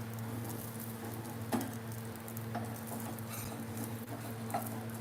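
Dosa sizzling in a hot pan while a spatula scrapes it loose, a steady fry hiss broken by light irregular scraping taps and ticks, close and fairly quiet, no talk.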